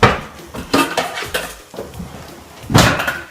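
A lid clanks onto a pot of Italian rice and chicken, with sharp metallic knocks and scrapes from cookware and utensils close by, a louder clatter near the end.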